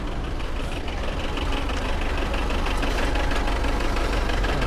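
A Tata 407 truck's diesel engine idles with a steady, rough, knocking rumble, close and continuous, with a dense clattering texture and no talk over it.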